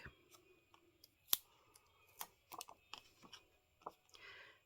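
Scissors snip through card stock during handmade card crafting, a single sharp close cut amid faint scattered handling clicks and paper rustles in a quiet room.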